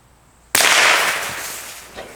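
A single close, loud gunshot cracks out at a target after near silence, followed by a long decaying echo and a faint later thump.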